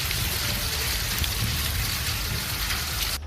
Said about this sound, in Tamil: அம்ரேலி சுற்றுவட்டார பகுதிகளில் சுமார் 3 மணி நேரம் கனமழை பெய்தது